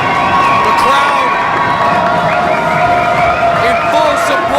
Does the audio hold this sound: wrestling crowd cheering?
yes